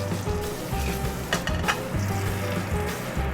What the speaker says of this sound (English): just pan frying a trout and using a little butter, a little salty water